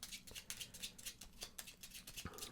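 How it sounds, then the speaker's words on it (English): A deck of action cards for a small solo tabletop game being shuffled, soft quick riffling and flicking in short bursts at close range, quiet and with no talking. "we're going to go ahead and shuffle up the action deck"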